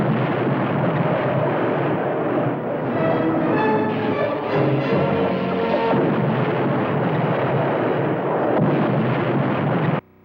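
Cartoon submarine weapon fire in an undersea battle: a sustained, loud, roaring blast that fills about ten seconds before cutting off sharply, with no talk over it.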